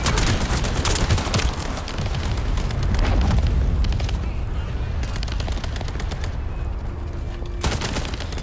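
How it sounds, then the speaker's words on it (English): In The First Descendant, a player is bombarded from behind by a steady barrage of explosions and rapid gunfire. The dense, booming impacts continue loud and close for several seconds with little pause. "I'm getting bombed from behind"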